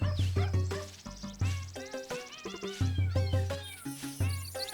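Playful music from The Legend of Zelda: Link's Awakening, a bouncy game soundtrack built from short repeated sampled dog and cat cries arranged as rhythmic melodic notes, clear and steady throughout.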